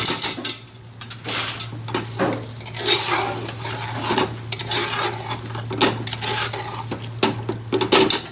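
Metal spoon stirring chicken shatkora curry in a pan, a Bengali dish, with repeated scraping and clinking against the pan and a steady low hum underneath, close and loud.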